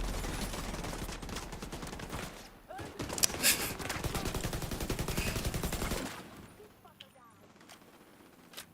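Rapid video-game gunfire crackles in dense automatic bursts for several seconds, loud and continuous, then cuts off into quieter game ambience.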